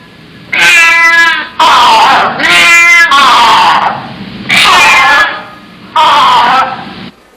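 Two cups rubbed to mimic a male and female cat produce five loud, yowling meow-like calls in quick succession, some harsh and caterwauling, with brief silences between and no voices.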